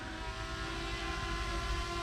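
An MJX Bugs 7 drone flies back on return-to-home, a steady tonal whine and hum from its motors, continuous and fairly faint, with no talking.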